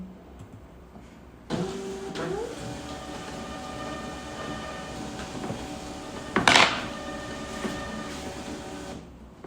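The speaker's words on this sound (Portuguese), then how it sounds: "Agora eu vou imprimir aqui o sonzinho que a gente gosta." Label printer printing onto satin ribbon: a steady motorized whir with pulsing feed, starting with a clunk, running evenly for several seconds and peaking in a brief louder grinding burst near the end, no talking.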